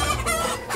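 A chicken clucks and crows loudly right after being caught by hand on a farm in Côte d'Ivoire, its agitated squawks continuous and close over background commotion.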